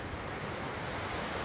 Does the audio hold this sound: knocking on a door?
no